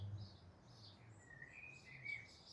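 Small birds chirp and tweet faintly outdoors in a quiet setting, scattered high calls at a distance with no one speaking.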